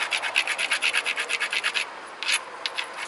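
A flint edge being ground to build a striking platform, heard as a quick run of close, regular rasping strokes that pause briefly before a few more scrapes follow.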